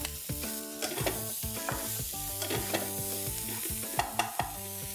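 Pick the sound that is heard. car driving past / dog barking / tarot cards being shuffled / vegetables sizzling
vegetables sizzling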